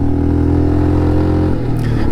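Motorcycle engine straining in a low, steady drone while climbing a steep hairpin road toward Umling La at extreme altitude, loud and close throughout, with the pitch dropping near the end and no voices.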